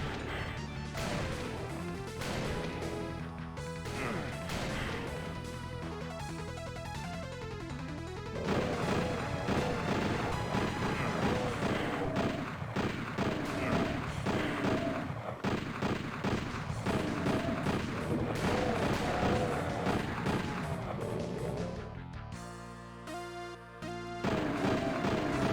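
Gunfire in a video game, with repeated loud shots and crashing impacts layered over a busy, dense game soundtrack that runs the whole time with no talk.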